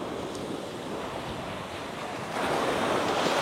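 Ocean surf rolls in steadily at Manapad beach, a continuous broad wash of waves with wind buffeting the microphone, growing louder partway through with no voices.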